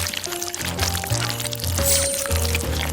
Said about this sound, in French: Je vais la verser dans les bols.